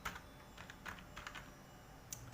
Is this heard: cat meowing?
no